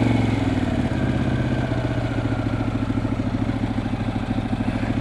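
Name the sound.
Harley motorcycle engine idling, warming up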